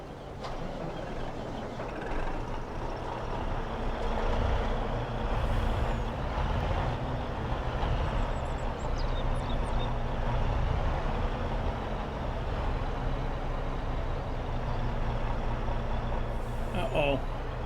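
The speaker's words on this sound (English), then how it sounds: "We'll get these trucks loaded and get them on their way." Trucks in Farming Simulator 22 rumble steadily at a Red River, Manitoba soybean harvest, their engines droning under continuous nearby chatter, with a sharp air-brake hiss near the end.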